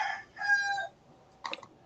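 A rooster crows outdoors in the morning, one long harmonic cock-a-doodle-doo at close range, then a short second burst of crowing after a pause. No speech.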